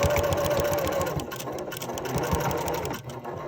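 A sewing machine stitching through denim jeans runs steadily and close for a few seconds, a dense mechanical whirring chatter that slows slightly toward the end.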